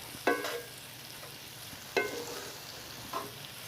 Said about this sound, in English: So this is already starting to break down as we're browning and sauteing it